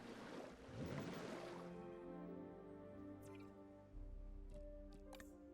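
Water pours onto terrain in the Jurassic World Evolution 2 video game, a watery splashing rush that fades into soft dripping and squishing over faint musical tones.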